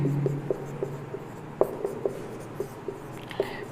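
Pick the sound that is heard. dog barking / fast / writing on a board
writing on a board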